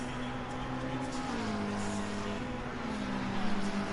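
Race cars at Bathurst roar around turn 1, a continuous, dense engine whine with shifting pitch, loud and sustained throughout the clip.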